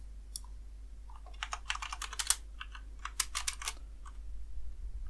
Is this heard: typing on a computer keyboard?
yes